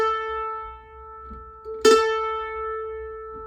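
A single sustained bowed note on an open A string holds steady and clear, with a brief bow scrape or change partway through, no voices.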